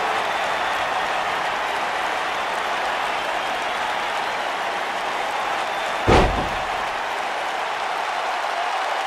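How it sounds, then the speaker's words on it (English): Steady crowd cheering and applause from a WWE 2K19 wrestling video game, a constant dense roar throughout with one brief thump partway through. "Would you listen to them?"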